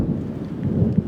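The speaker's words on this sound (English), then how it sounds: "Thunder." Low, rolling thunder rumbles steadily through the whole moment, a deep continuous grumble with a slight swell near the end, mixed with faint rain-like texture and no voices.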